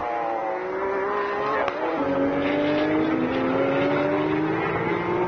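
Porsche 992.2 Cup race cars at Fuji howl past, engine tones sliding and climbing through gear changes, with a brief sharp transient midway and a steady loud roar throughout.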